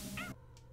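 A pet cat lets out one short, close meow, a brief rising cry that quickly fades into room quiet.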